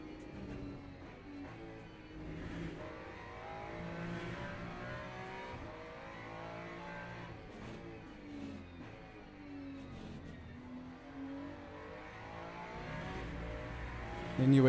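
A race car engine in the Le Mans Ultimate racing game revs and downshifts through corners, a continuous rising and falling engine drone with repeated pitch sweeps, steady and fairly loud throughout.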